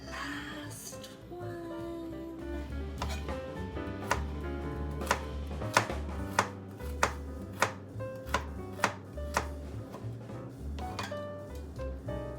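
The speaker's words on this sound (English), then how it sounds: "the carrots are already little, so I'm just cutting up little pieces of them" A knife chops small carrots on a board in a home kitchen while making spaghetti bolognese, giving a run of sharp, evenly spaced taps over steady background music, close and moderately loud.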